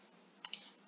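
Two crisp, close computer mouse right-clicks in quick succession, sharp and quiet over a faint background hum.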